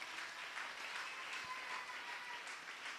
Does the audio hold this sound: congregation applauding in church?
yes